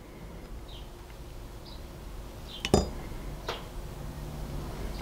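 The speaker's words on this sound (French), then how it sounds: "on va prendre une petite cuillère et on va les mettre dans la préparation" A small spoon tapping against a glass while chia seeds are added to a drink preparation, two sharp clinks about a second apart, close, over a quiet steady background hum.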